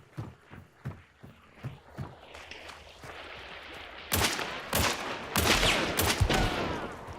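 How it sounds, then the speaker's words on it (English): Rapid gunfire in a shooter video game: evenly spaced shots at first, then denser bursts of loud, fast-firing rounds over a steady background. "Some fast-ish firing guns, but not like that 60 round magazine spray and pray"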